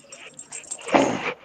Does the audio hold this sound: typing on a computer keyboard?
no